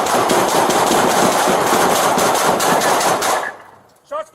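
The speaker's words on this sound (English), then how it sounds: "Shots fired, shots fired." Rapid sustained gunfire during a police encounter at a hospital, a dense, loud burst of shots lasting over three seconds, then a sudden stop followed by brief voices.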